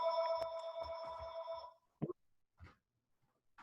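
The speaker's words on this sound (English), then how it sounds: "the phone's ringing here" A telephone rings indoors on a dial-up-era landline, a bright sustained electronic trill lasting under two seconds, followed by a few faint clicks and handling sounds in near silence.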